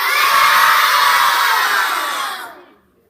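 A crowd of children shouts together in a loud, sustained roar lasting over two seconds before cutting off.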